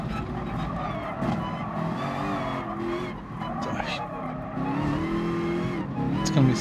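A pack of race cars in Gran Turismo Sport funnels through a chicane, engines droning and revving with tire squeal throughout, loud and continuous under a commentator's voice.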